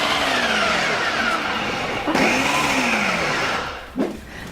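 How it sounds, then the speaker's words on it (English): A blender whirs as it blends eggs into a bread batter, a loud continuous motor drone with shifting pitch that drops away abruptly near the end. "All you have to do is blend that up and grab your bread pan"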